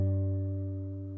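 A single guitar note picked at the 7th fret while a finger hovers lightly over the other strings rings as a warm sustained tone, fading slowly, close and alone.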